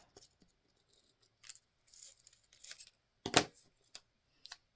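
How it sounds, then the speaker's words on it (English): Scissors snip through a craft piece in several separate, crisp cuts spaced irregularly, close and fairly quiet, with one sharper, louder snip partway through and silence between. "And then I'm going to cut this top off."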